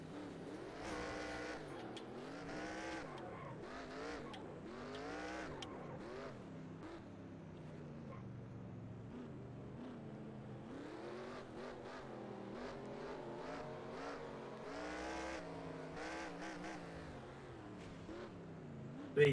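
Race car engines roar continuously in the NR2003 racing game, with SRX stock cars revving and shifting through rising and falling pitches, occasional tire squeal and cars passing, steady and fairly loud throughout.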